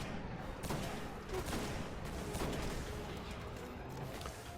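Rapid bursts of gunfire against enemies in the Destiny video game, a dense, steady volley of shots with small booms, fairly quiet and continuous with no voices.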